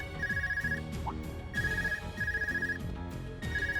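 A phone rings in the game Trails of Cold Steel 2, repeating electronic ring bursts in a steady pattern over soft game music, fairly quiet.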